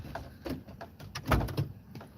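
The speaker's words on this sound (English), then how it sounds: "Let me open this door for her." A door swinging open indoors, with several soft clunks and a louder thump from the latch and frame, close by and unaccompanied by talk.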